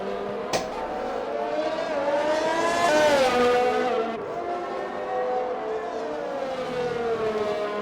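Race cars circling a track in an RSF1 league race at Italy in a racing video game, engine tones rising and falling steadily, with one car's pitch sweeping up loudly mid-clip before settling back into a continuous drone.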